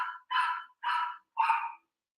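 A dog barks four times in an evenly spaced series of sharp, close barks, followed by silence.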